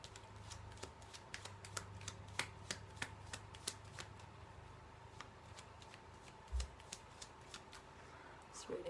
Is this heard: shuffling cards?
yes